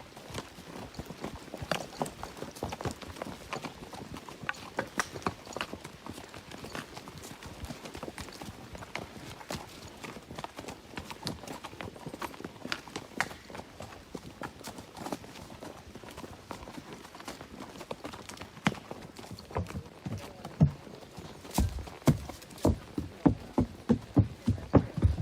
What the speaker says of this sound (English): This mule walks